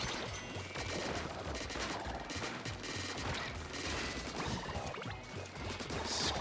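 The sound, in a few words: ink weapon shooting at enemy in video game Splatoon 2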